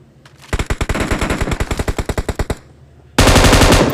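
PUBG Mobile gunfire: a rapid automatic burst of about twenty evenly spaced loud shots, a brief pause, then another dense burst starting abruptly near the end.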